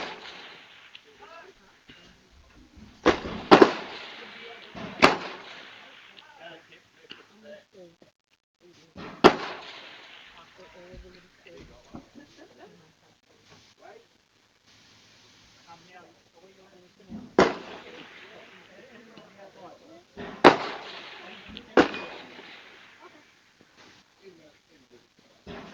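Precision rifle shots fired at a far target during a Precision Rifle Series match in Australia in light wind, several sharp cracks spaced seconds apart at moderate distance, with talk heard in between.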